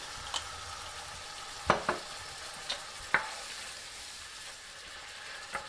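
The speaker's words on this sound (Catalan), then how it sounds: "Amb aquest sofregit ara hi afegirem una mica de cava. En aquest cas és cava rosat." Rosé cava poured into a seafood sofrito sizzles steadily in the pan, with a few sharp clinks and scrapes of a utensil stirring.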